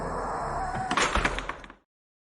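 A door closing with a thunk followed by a quick run of metallic clicks and knocks as it is locked, heard up close over a steady ambient drone in a horror story, then abrupt silence.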